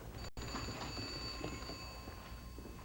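A telephone rings steadily, a faint sustained bell tone over a busy room background, continuing without a break.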